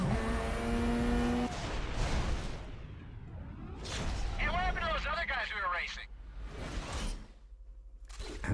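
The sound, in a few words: race car engine in Need for Speed: Carbon video game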